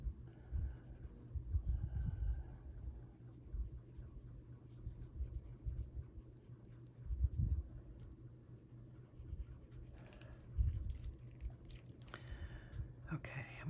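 Colored pencil scratching across ink-lined paper, soft close scraping strokes in irregular bursts, quiet and intimate, with occasional faint whispered talk.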